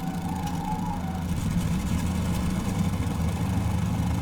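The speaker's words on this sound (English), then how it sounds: "we'll get the centre engine starter on." The centre engine of a Fokker F VII in Microsoft Flight Simulator runs as a steady, close, droning idle that swells slightly in loudness early on and then holds even.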